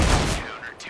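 A Desert Eagle pistol shot in Counter-Strike on the Anubis map, a loud, sharp blast at the very start that fades quickly into a short decaying tail, with no other sounds after it.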